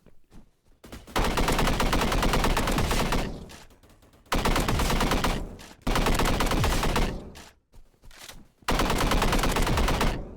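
AK-47 automatic fire in a video game, several sustained loud bursts broken by short pauses, each a dense rapid rattle of shots.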